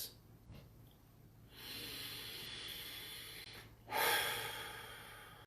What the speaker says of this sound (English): We're going to begin by taking a few deep breaths.